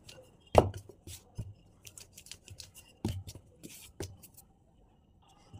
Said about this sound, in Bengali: এই যে এইভাবে বেলে নিতে হবে